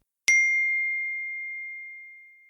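A single bright chime for an incoming text message notification, one clean ding that rings out and slowly fades over about two seconds in otherwise silent surroundings.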